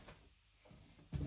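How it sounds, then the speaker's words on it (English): Several drawers and cupboards opened and shut in a craft room during a search for stitch templates, a soft slide early on, another around the middle, then a sharper, louder thump of a drawer at the end, with no voices. "how many drawers I'm opening, try and find them"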